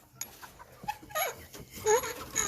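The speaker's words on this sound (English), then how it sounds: "And here we are at the chicken coop, going in with the babies." Eleven-week-old Turken chickens clucking inside the coop, several soft irregular clucks and calls at moderate distance with light movement noise around them.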